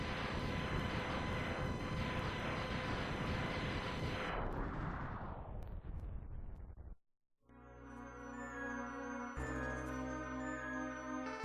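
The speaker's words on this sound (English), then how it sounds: "Zero breaks free and decides to sacrifice himself by blowing himself up" Zero blows himself up in Mega Man X, a dense, loud burst of rumbling explosion noise lasting several seconds that fades out, followed after a short silence by game music.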